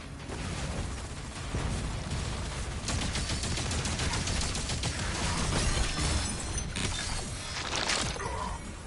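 Gunfire and explosions in the Doom: The Dark Ages video game, a dense, loud barrage of shots and blasts with sharp impact cracks, continuing without talk.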